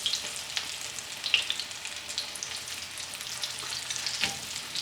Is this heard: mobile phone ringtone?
no